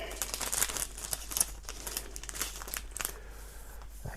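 Paper envelope and plastic packaging from an anti-fog helmet visor insert, crinkling and rustling in a close, steady stream of small crackles and tears for several seconds, with no voices.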